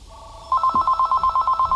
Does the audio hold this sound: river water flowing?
no